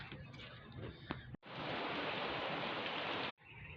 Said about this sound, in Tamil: மழை வந்தாச்சு.